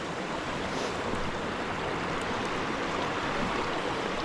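A creek running high after rising water, a dense continuous rush and roar of flowing water, close and loud, with no voices and no breaks.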